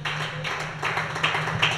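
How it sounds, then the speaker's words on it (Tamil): Audience clapping at a Tamil Christian worship service, a handful of sharp, evenly spaced claps in a steady rhythm over a low electrical hum. "கையை தட்டுங்க."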